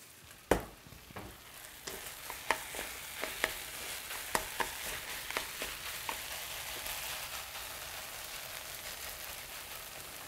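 Kimchi fried rice crackling in a pan with seasoned laver and toasted sesame seeds, a steady sizzle broken by a string of sharper pops and stirring clicks, close and loud throughout.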